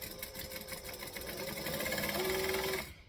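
A sewing machine stitches tote bag pieces together in one steady close run, its motor whine rising slightly in pitch before stopping abruptly at the end.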